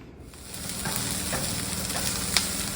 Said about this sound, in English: So I've sauteed the onions.